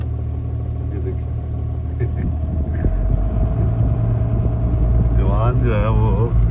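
A car engine rumbles steadily and low while the vehicle drives along in the evening in Murree, Pakistan, with people talking over the continuous drone.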